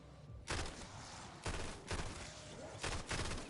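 Full-auto gunfire in Black Ops 6 Zombies on the Nebula map, delivered in four loud, dense bursts of rapid shots separated by brief pauses, with no talking.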